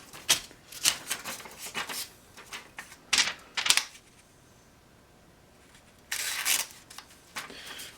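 A convex-sharpened knife push cuts through material, making sharp, crisp scraping bursts in irregular clusters. Quieter pauses fall between them, and a final longer rasp comes near the end.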